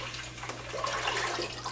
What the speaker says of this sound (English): take your 1 gallon of milk, and you're going to go ahead and pour